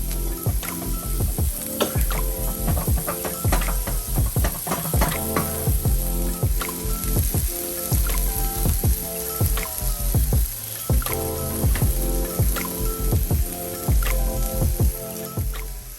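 Vegetables and garlic sauté in a pan for Cajun shrimp and grits. A continuous close sizzle runs throughout, broken by frequent wet stirring and scraping strokes, with no talking.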